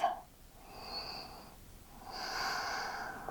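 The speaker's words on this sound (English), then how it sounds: "Let's take one more breath." A deep, slow breath during a yoga stretch for the front splits: a soft inhale, a brief pause, then a longer airy exhale, close and quiet with no talking.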